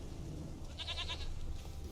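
Single short goat bleat in The Witcher 3, a wavering nasal cry lasting about half a second, fairly faint over a low ambient game background.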